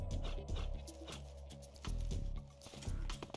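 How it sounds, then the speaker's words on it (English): A guard dog in the stealth game Metal Gear Solid 3 makes yips and whimpering barks in several short bursts, mixed with game music and ambient effects, with no voices. "distract this dog"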